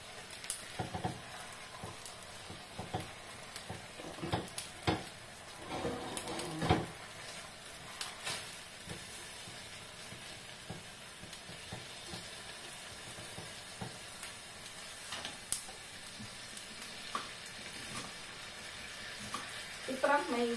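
Eggplant and pork frying in hot oil for adobong talong, a steady busy sizzle with scattered crackles and pops running throughout, close and moderately loud, with occasional clinks of utensils against the pan.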